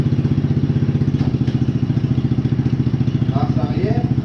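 A cheap 130-euro buggy's small engine idles right after starting, a loud, steady, fast thumping putter that runs throughout, close by, with a brief voice at the end.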